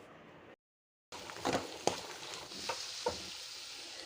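Spices are stirred into a bottle gourd masala curry in a pan, with a soft steady sizzle and a few scraping strokes of a spoon against the pan, close, after a brief silent gap.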